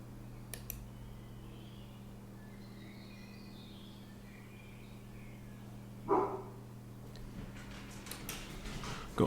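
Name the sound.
dog barking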